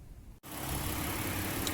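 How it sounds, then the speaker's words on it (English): A car engine turns over and catches, then settles into a steady, loud running rumble that stays even to the end. "so now I have the engine running"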